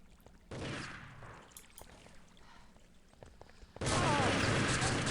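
Gunfire bursts from a 2v2 multiplayer shooter tournament match, with loud, dense volleys at the start and again at the end and scattered quieter shots between them.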